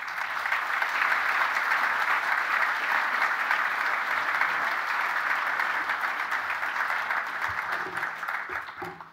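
An audience applauds steadily to welcome speaker Larry Decker at a Secular Coalition of America event, a dense, sustained clapping from a full room that holds for about nine seconds before starting to fade.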